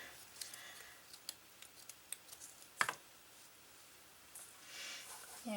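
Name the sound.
tearing strips from an old cotton shirt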